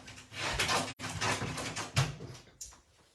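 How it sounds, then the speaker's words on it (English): An animal scratches at a door in a series of close, rough rasping strokes, with a short pause partway through and a sharper knock near the end, heard alone without talk. "Are you coming in, or did you just want to scratch the door?"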